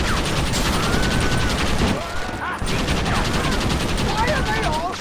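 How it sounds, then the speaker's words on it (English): Gunfire in the Red Dead Redemption game rattles nonstop in loud rapid bursts, with a brief lull midway and a voice talking over the shooting. "Why are they all shooting at me?"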